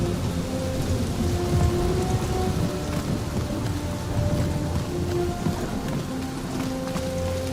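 In Marvel's Guardians of the Galaxy video game, heavy rain pours down steadily through a thunderstorm, a dense continuous hiss with low rumbling thunder and faint tonal hums underneath, no voices.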